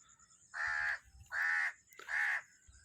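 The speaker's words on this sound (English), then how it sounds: "And there's voices of crow." A crow caws three times in an even rhythm, each harsh call about half a second long, clear and fairly near against a quiet outdoor setting with cotton plants.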